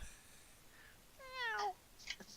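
A cat gives a single short, rising meow, faint and fairly close in a quiet room, followed by a brief soft chirp.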